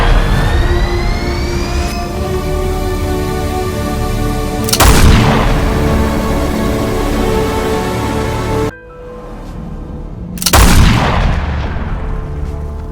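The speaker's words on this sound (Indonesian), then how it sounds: "terjadilah boom, dentuman yang sangat dahsyat" Two huge, deep booms, each bursting suddenly over a loud sustained rumbling drone and ringing tones, the second following a brief drop in sound.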